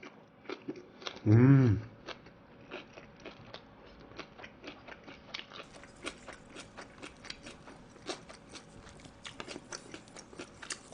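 Close, soft chewing of a bite of pork belly wrapped in white kimchi with mustard sauce, a steady run of small moist crunches and clicks after a short hum.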